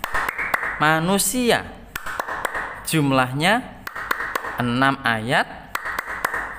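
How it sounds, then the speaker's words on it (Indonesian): Children clap a rhythm for surah An-Nas in a classroom Quran lesson, sharp claps in quick patterned bursts mixed with sung chanting of the verse, close and lively. "Kita bersama-sama tepuk surat An-Nas"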